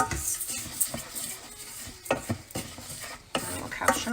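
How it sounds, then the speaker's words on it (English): A cup of rice stirred into oil and onions in a pan, with irregular scraping and clinking of a utensil against the pan, a faint sizzle beneath, and no talking. "take this cup of rice, and so we're going to coat it with the oil in the onions."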